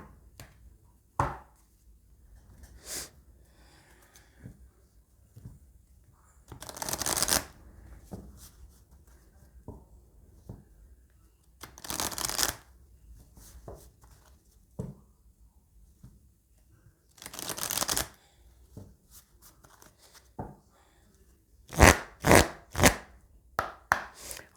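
Oracle cards being shuffled, bursts of papery riffling and slapping spaced out every few seconds, ending with a quick run of sharp taps, close with quiet gaps between.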